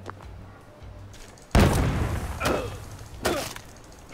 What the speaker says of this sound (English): They're bombing us again!